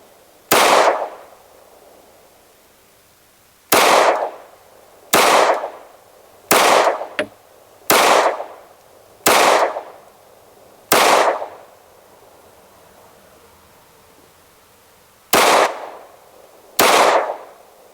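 Gunshots from a SCCY CPX-2 pistol at an outdoor range ring out as loud, sharp single cracks, each with a brief decaying tail, eight or nine in an uneven series with pauses between them, and no talking.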